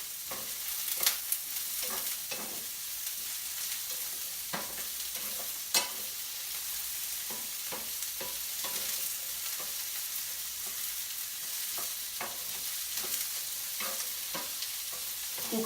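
Vegetables and cracked wheat sizzling in a pan, with soft continuous frying hiss and occasional scraping stirs, close and fairly quiet, no voices.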